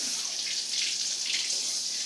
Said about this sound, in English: So we're going to get some water going here.